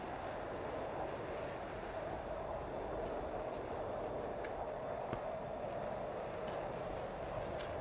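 A train rolls along steadily in the GTA San Andreas video game, a continuous, even rumble of rail noise with faint clicks, heard alone at moderate level throughout.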